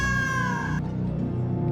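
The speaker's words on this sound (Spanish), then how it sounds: "si esta noche escuchas un maullido largo" A long, drawn-out cat meow with strong harmonic tones that cuts off abruptly partway through, leaving a low background hum behind it; loud and close, with no talking.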